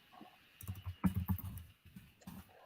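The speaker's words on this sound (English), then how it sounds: "Let me finish typing this up." Fingers tapping on a computer keyboard nearby, quiet irregular bursts of clicks with short pauses between runs of keystrokes, no talking.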